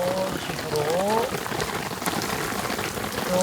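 Heavy, steady rain pours down outdoors in a long, sustained downpour, a dense hiss of drops covering the whole moment, with a faint voice passing briefly over it.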